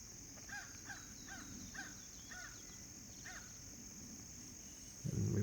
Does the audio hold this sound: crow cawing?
yes